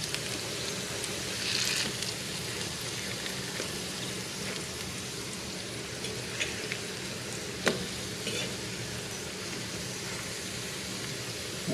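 Steak pieces fry in a hot pan with a steady, dense sizzle and crackle throughout, with an occasional sharper pop and faint stirring sounds, and no one speaking.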